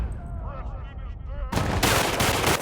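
Gunfire in a firefight in the video game Battlefield Bad Company 2, with warbling electronic effects followed by a sudden loud burst of rapid automatic shots that continues to the end.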